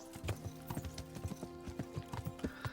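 Horse hooves clip-clop at a steady trotting rhythm during a ride in the video game Kingdom Come Deliverance, quiet and even with no talk over them.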